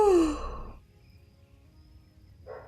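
A video game character yawns in Retro Rewind, one long sighing exhale that falls in pitch for under a second, followed by near silence and a brief soft rustle at the end.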